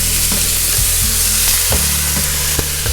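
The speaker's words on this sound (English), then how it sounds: "Gonna let that cook down for just a minute and sweat those veggies slightly." Vegetables including green onion sweat in a hot pan with steady, close, loud frying sizzle throughout, broken by a few soft stirring knocks and scrapes.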